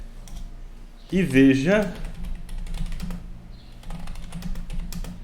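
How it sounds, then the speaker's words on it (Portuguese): Computer keyboard keys clicking in quick bursts while someone enters text into a spreadsheet cell, with a person speaking over part of the typing. "eu digitei alguma coisa aqui"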